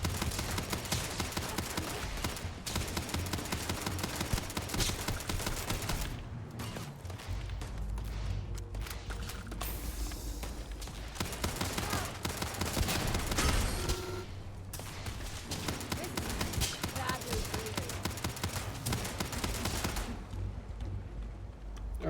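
Sustained gunfire in the video game Starfield, long loud bursts of rapid automatic shots with brief pauses between volleys, dense and continuous throughout.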